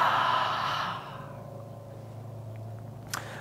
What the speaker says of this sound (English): exhale through the mouth